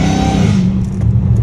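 Dodge Challenger Hellcat Redeye revving hard through catless exhaust pipes, a loud, close, deep engine roar with a thick rumbling drone that holds steady for the whole moment.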